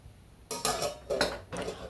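Pre-cooked rice is worked into khichdi in a pan over a low flame, producing three distinct bursts of scraping and clattering from a spoon against the pan, separated by short pauses, with no voices.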